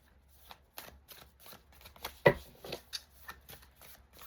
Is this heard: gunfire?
no